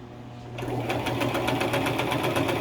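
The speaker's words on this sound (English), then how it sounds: "The machine is just slightly taking the fabric." A sewing machine stitches pillow fabric, starting up after a brief quiet moment and then running in a fast, steady mechanical chatter close by.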